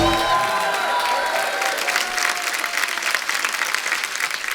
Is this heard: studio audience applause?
yes